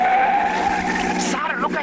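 A taxi swerves and skids in a Cairo car chase, staged as a radio drama: a sustained tire squeal whines under an engine and then slides down in pitch, with a voice speaking over the end.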